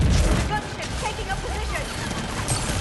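Sustained weapon fire in the Mass Effect 3 video game, a dense, loud barrage with crackling bursts throughout and game effects mixed in.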